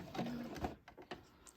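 A sewing machine stitches a rope trivet, the motor whirring in short bursts with a steady hum that stops and restarts, close and fairly quiet.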